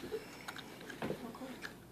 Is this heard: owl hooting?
no